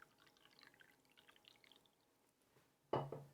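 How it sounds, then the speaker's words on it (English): Tea poured into a cup: a short, close splash of liquid near the end, following quiet near-silence. "Please bear with me here as I pour myself a cup of tea"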